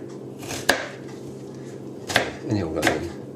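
A big knife chops an onion on a board in three sharp, separate strikes with gaps between them, mid-distance, with a faint scrape after the second.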